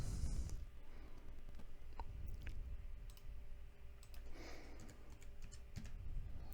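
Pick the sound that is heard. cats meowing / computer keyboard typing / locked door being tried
computer keyboard typing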